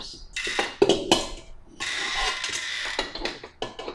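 A temperamental kitchen mixer whirs and rattles while mixing banana chocolate chip loaf batter, with short clattering bursts at the start and then a steadier grinding run that cuts in and out near the end.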